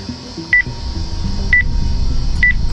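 A telephone keypad dials a number, producing three short, clear beeping tones spaced about a second apart over a low background hum.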